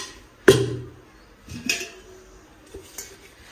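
Metal pots and utensils clank as they are gathered and stacked, with one sharp, ringing clatter followed by a few softer knocks and clinks at close range.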